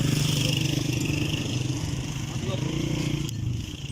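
Motorcycles idling and revving nearby as they are moved aside by an old canal bridge at Nandipur, Gujranwala, their steady engine drone running under someone talking.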